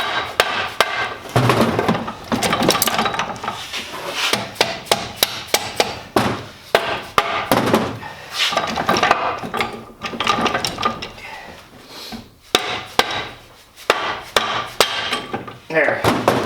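A hammer repeatedly whacks parts of a TR3650 transmission to loosen them during a teardown, with sharp, loud metallic strikes coming in uneven bursts alongside clanking gears and mechanism rattles.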